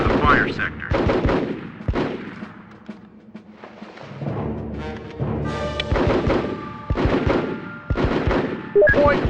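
Combat gunfire in the military squad game Full Spectrum Warrior: repeated sharp rifle cracks and heavier booming shots come in clusters, with a quieter lull midway and game voices talking among the shots.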